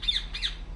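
A bird in the video game Republique lets out two quick, sharp squawks close by, a brief harsh pair of cries with no talking.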